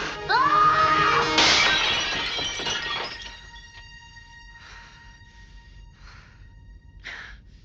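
A table smashed in a Star Trek scene: a loud crash with shattering, glassy debris at the start, then scattered tinkling pieces settling and fading over several seconds, with a faint gasp.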